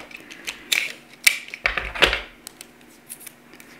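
Scissors snip through tape for an eye-makeup tape method, making several sharp, close cuts in quick succession. Crisp metallic clicks sound alone, with short pauses between them.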